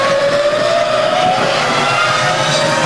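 A BMW-engined Formula 1 car screams past at the European Grand Prix, a loud, high-pitched engine whine rising steadily as it accelerates, continuous and close, with crowd and track noise beneath.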